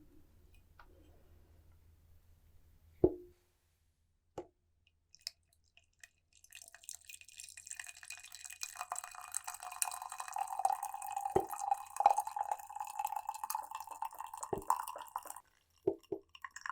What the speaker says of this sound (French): Et je sers l'eau.